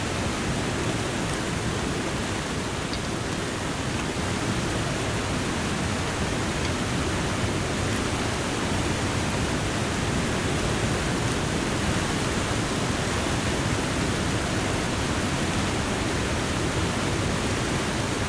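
A waterfall in The Long Dark video game rushes steadily, a loud, dense broadband roar that stays constant and unbroken throughout, with no talk over it.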